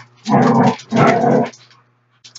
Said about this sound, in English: You guys hear the growling in the background.